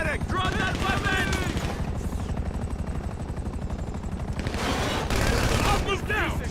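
Video-game gunfire from a GTA Online farm raid on the Cluckin' Bell plant, with bursts of shots and a helicopter-like mechanical drone under excited voices, loud and continuous.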